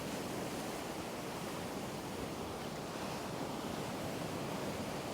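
Sea waves surging at Collywell Bay in rough, crappy weather: a steady, unbroken wash of surf and wind noise that fills the whole clip without pause, with no voices.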